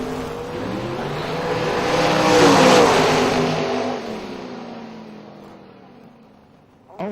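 Mustang drag race car launching and racing down the strip, with a loud engine roar that swells to a peak and then fades steadily as the car pulls away into the distance.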